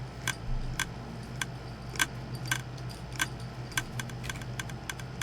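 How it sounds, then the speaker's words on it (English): Dispensers in the video game Minecraft click over and over in a loud atrium full of bees, a steady run of sharp, close mechanical ticks at uneven intervals over a low ambient hum. "There's a lot of dispensers around, and that are just constantly clicking."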